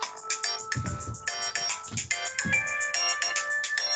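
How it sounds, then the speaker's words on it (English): A mobile phone ringtone plays a repeating electronic melody of bright tones, loud and close, steady for several seconds during a walk at the historic Whale City Bakery in Santa Cruz County. "my phone is going off"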